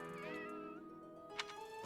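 A video game cat in Fire Emblem: Three Houses gives a sustained, tonal meow with a wavering pitch, fairly clear and steady against a soft game backdrop, ending with a brief click.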